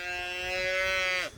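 A single cow from a farm herd gives one long, loud, close moo that holds steady for over a second and then breaks off abruptly.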